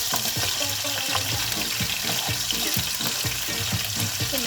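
Shrimp fry in oil with garlic in a pan, a steady, loud, close sizzle with crackling pops and stirring scrapes throughout.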